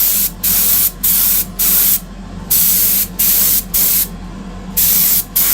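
An airbrush sprays base coat onto Greek style vases in loud, steady hissing bursts, each lasting roughly half a second to a second, broken by brief pauses of quiet, about eight bursts in all.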